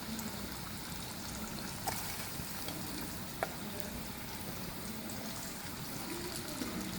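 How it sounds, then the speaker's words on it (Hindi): Chicken frying in a pan, already crisp on both sides, gives a steady, even sizzle with a few faint clinks. No one speaks. "चिकन हमारी दोनों तरफ से फ्राई हो चुकी है।"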